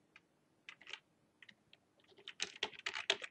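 Bursts of computer keyboard typing in a quiet room, scattered keystrokes at first, then a denser run of clicks, close and fairly soft.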